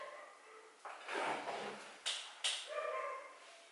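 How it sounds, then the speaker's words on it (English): A dog outdoors gives a few short barks and yips at moderate distance, spaced irregularly over a few seconds against a quiet indoor background. "There's a dog barking outside."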